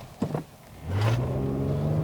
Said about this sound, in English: let's try a quick acceleration run from a stop